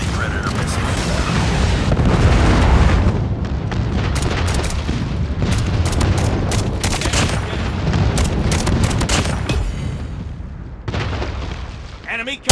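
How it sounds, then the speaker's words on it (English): Predator missile strike in the mobile shooter game Call of Duty Mobile, heavy booming blasts and rumbling explosion debris with scattered gunfire crackles, loud and sustained before falling away near the end. "Friendly Predator missile inbound."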